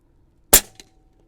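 An AirMaks Arms Katran .25 caliber airgun fired on an outdoor range: a single sharp, close crack with a short, faint echo or mechanical click just after, set against near silence.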